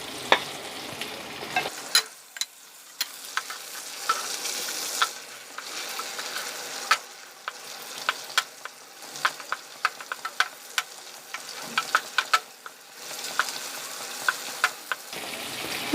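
Ginger and green chillies sautéing in melted butter in a pan, a steady close sizzle broken by sharp clicks and scrapes of stirring, with no voices.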